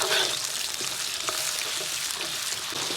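Doubanjiang chili bean paste stir-fried in hot oil with scallion, ginger and garlic, a steady close sizzle and crackle with faint scraping of the stirring, no voices.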